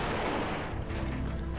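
Cannons fire in the strategy game American Conquest, loud booming blasts that overlap into a dense, continuous barrage.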